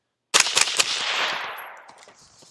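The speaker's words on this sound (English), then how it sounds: "let's go ahead and dump the rest of the magazine just to get an idea how much gas is going to blow back to my face" A fast string of suppressed rifle shots through a TISHA 556 suppressor, fired quickly to empty the magazine: a close, sharp burst of about five cracks merging into a hissing, decaying wash of noise.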